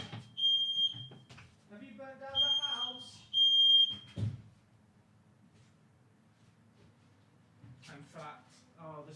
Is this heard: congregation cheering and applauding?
no